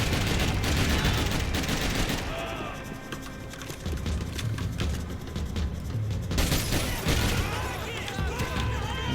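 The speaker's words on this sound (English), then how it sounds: "we are going to grab that man's assault rifle and take a few shots at people" Assault rifle fire in the shooter game Max Payne 3 cracks out in rapid bursts and scattered single shots, loud and close, with gaps and rattling mechanical clatter between volleys.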